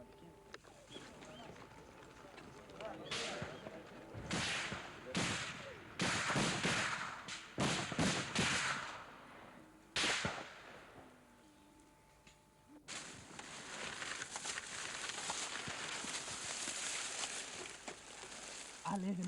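Gunfire during a guerrilla ambush on a National Guard patrol in El Salvador: repeated cracking shots and bursts, some close and some farther off. Sustained noisy commotion follows, with voices mixed in.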